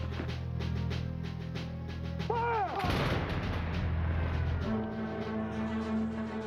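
Gunfire from the first Revolutionary War battles: a rapid, uneven volley of sharp musket-style shots and booms under sustained low rumble, with a brief whistling tone before a heavy crash of fire in the middle.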